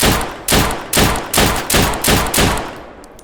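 Six loud, evenly spaced gunshots from a C19 .45 pistol in the video game Deadside, each a sharp crack with a short decaying tail, fired alone in a steady rhythm.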